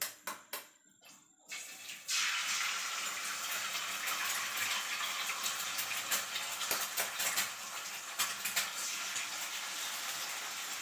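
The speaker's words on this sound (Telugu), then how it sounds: "నేనేమో ఒక 2 eggs వేసేస్తున్నా" Eggs dropped into hot oil in a pan for street-style fried rice set off a sudden loud sizzle. After a few clinks, a bright steady hiss continues alone with faint clatter.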